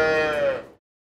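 A single dairy cow on a farm lets out one loud, close moo that slides slightly downward, then it cuts off into silence.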